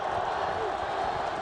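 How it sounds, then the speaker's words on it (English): Crowd noise fills a football stadium on third down in a 2003 NFL game, Chargers at Detroit Lions, a steady broad roar held at a moderate distance for a brief moment. "A little noise from the crowd on 3rd down"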